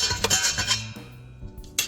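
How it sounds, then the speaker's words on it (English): Utensil stirring flour into carrot cake batter in a bowl, giving close scraping and clinking strokes in an uneven rhythm, with no talking. "I'm going to start mixing it up until it's combined"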